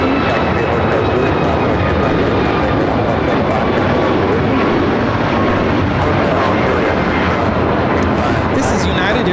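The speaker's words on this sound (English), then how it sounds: "This is United Airlines 2443 taking off to Cleveland, Ohio on the MAX 8" A United Airlines Boeing 737 MAX 8 takes off at LAX, its engines producing a loud, continuous broadband roar that holds steady and close for the whole stretch.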